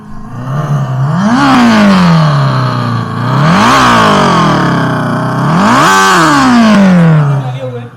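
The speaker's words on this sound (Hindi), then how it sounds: "एक बार इसका आवाज़ भी सुनते हैं कि ये किस तरह का इसका एग्जॉस्ट साउंड करता है" Komaki Ranger electric cruiser motorcycle playing its simulated exhaust note: three rising revs that climb and fall back to a steady idle-like hum, loud and close with no talking.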